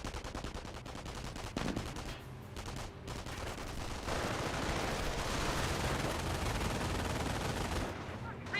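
Bursts of machine-gun and rifle fire strike a jeep in the strategy game Company of Heroes, a steady rattling volley at moderate distance that grows denser and louder midway, continuing without pause.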